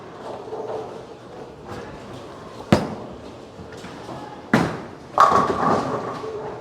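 A bowling ball thrown with a Trident Nemesis rolls down the lane from 25, giving several sharp thuds and a final crashing impact near the end, with a faint rumble between hits.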